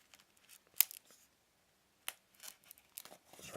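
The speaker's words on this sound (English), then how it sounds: "cutting apart the sticky tape that's holding the box lid and box base together" Scissors snipping and tearing through sticky tape on a chocolate box lid: a few sharp, quiet crisp cuts and crinkles separated by short pauses of near silence.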